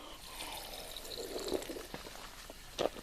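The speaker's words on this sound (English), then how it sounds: "my nozzle will actually squirt, so I can cool myself" A Geigerrig hydration pack nozzle squirts water on a hiking trail near Ellenville, NY: faint, close spritzing and light splashing over quiet outdoor ambience, with two short, sharper bursts.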